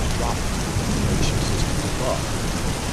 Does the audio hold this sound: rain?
yes